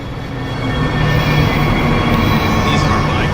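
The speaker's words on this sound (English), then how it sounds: "These are my commuter trains." Commuter trains in the transport simulation game Transport Fever 2 rumble past, a loud steady rolling roar of railcars with faint wheel squeal, close and continuous, with no voices.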